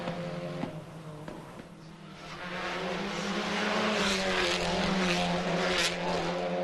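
Touring cars race around the narrow Macau street circuit, engines droning and rising in pitch as cars pass close by, loud and sustained, with the roar building toward the end.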